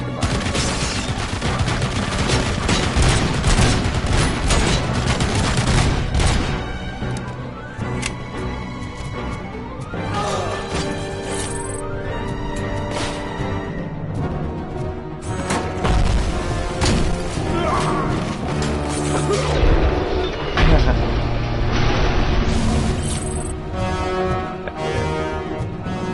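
Gunfire in the video game Robocop Rogue City, with repeated loud shots and bursts over a dense, busy mix of music and game effects, some crashes and impacts mixed in.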